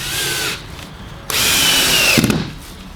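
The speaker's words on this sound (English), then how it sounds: "Let's see how she drills in here." Ryobi 18V lithium cordless drill driving a screw into oak, a loud whirring motor burst, a short pause, then a longer sustained run that bogs slightly near the end.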